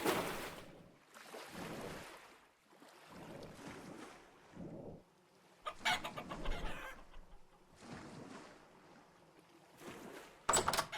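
Chickens in the video game Vintage Story cluck in several separate bursts with quiet gaps between them, set over windy ambient noise with no talking.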